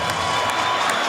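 A boxing arena crowd roars in celebration after a women's middleweight title fight ends in a one-punch knockout, a dense, steady wall of cheering with no pauses.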